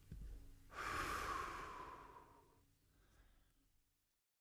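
A slow, soft exhale through the mouth after a held breath during a relaxation exercise, one long airy breath that swells and then fades gradually, close and quiet with no other sound.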